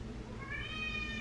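A single cat meows close by, a short rising call standing alone against a quiet background.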